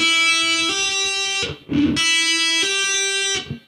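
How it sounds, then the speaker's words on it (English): Electric guitar with heavy metal distortion, a sustained note rising in pitch as the pinky hammers onto the eighth fret, broken by a short muted scrape before the hammered note rings out again. "Then I'm hammering on to the 8th fret with my pinky."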